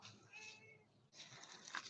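Pet cat named Cinnamon meowing indoors, a few drawn-out tonal meows close to the listener with a brief gap between them, fairly faint.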